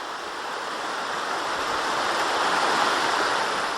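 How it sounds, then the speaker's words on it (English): Middle River rushing through Old Mill State Park, a steady broadband wash of flowing water, close and continuous, swelling slightly over a few seconds with no voices. "The water feature in this park is the Middle River, and it kind of runs right through the middle of the park"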